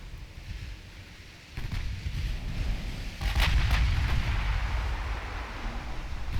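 Heavy naval gunfire from warships in the game Ultimate Admiral Dreadnoughts, deep booming salvos that swell into a sustained rumbling roar, loud and continuous with no talk.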